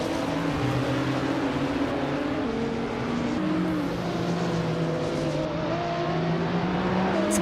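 A 24 Opel Corsa 1600 race car in a racing video game, engine droning loudly and steadily with other cars' engines layered underneath, pitch shifting slightly through gear changes, with no talk.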